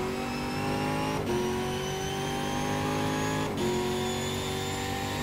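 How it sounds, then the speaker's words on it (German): A race car in the racing video game GTR 2 drifts on track, its engine holding a steady loud drone with two brief dips as it shifts or slides. No one speaks. "Ein kleiner Drift für die Menschheit."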